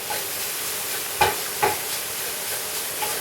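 Bacon frying in a pan gives a steady, close sizzle with a few sharp pops and spatters scattered through.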